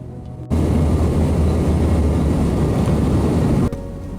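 A passenger airplane lands at Amsterdam Schiphol airport, a loud, steady roar of engine and rushing air heard from inside the cabin that starts abruptly, holds for about three seconds, then cuts back to a quieter hum.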